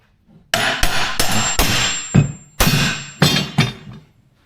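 Clamps are knocked off an end grain chopping board in a series of sharp, loud taps, about seven hits in quick irregular succession, each with a short ringing decay.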